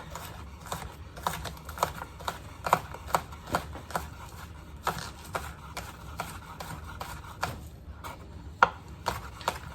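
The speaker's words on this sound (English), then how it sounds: "I'm going to thinly slice this, and I'm going to separate my whites from my greens" A knife chops scallions thinly on a cutting board in sharp, close taps, falling in quick irregular bursts over several seconds with no talking.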